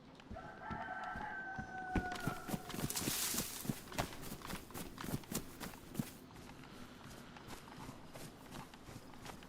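Fowl in the survival video game DayZ cluck and a rooster crows faintly, with a steady run of footstep-like thuds beneath them and no talking.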